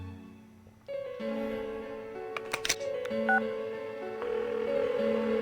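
Phone dialing in the video game Persona 4: a series of clear touch-tone beeps layered over background game music, close and steady with a few brief clicks among the tones.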